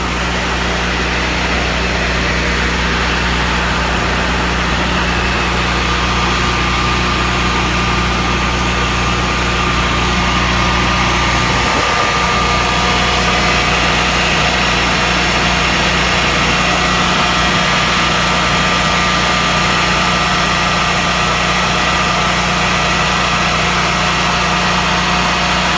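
A Generac standby generator engine runs steadily about five feet away, a loud, even mechanical drone with a constant hum and no voices over it.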